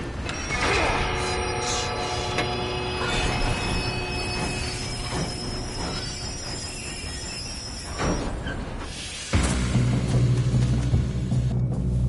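Game train from a PS4 title rolling along the tracks, with loud metallic wheel squeals, clattering cars and rumble running steadily throughout, then a heavier low roar taking over near the end.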